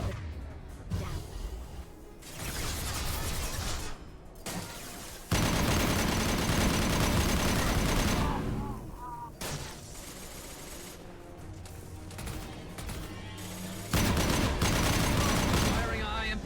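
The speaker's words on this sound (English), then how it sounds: "Firing a high-impact shot" Gunfire and explosive bursts sound in bursts of loud, dense combat noise in Mass Effect 2 Legendary Edition, with quieter gaps between volleys.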